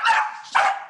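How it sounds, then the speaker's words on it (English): A dog gives two quick, loud barks close by, one right after the other. "There goes the dog"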